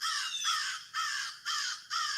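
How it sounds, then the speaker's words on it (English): Crows caw four times in quick succession, each call a harsh, loud, drawn-out rasp with short gaps between, heard alone without talk. "you got crows."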